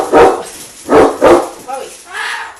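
Several loud, close barks from dogs in a home, three sharp woofs followed by softer whining yips.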